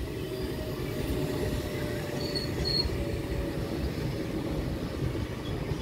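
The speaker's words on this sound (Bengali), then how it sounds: "ছেড়ে এসে ব্যান্ডেল জংশনে ঢুকছে ফুল এক্সপ্রেস।" The Hool Express, an Indian Railways train running from Howrah to Suri, entering Bandel Junction: a loud, continuous rumble of wheels and carriages rolling past close by, with faint brief squeals above the steady roar.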